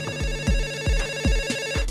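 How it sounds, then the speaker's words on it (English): A phone rings in a loud, repeating electronic tone. Its pulses fall in a steady rhythm, close and with no talk. "I'll take the call. Good, because it's your phone."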